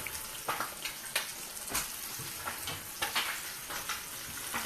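Rice with tea sizzles and fries steadily in a pan, a dense continuous crackle with scattered sharper pops, close and fairly loud with no voices.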